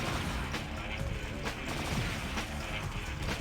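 Enemy gunfire in the Blade II video game, a rapid irregular burst of sharp shots cracking over a noisy background, fairly loud and with no speech.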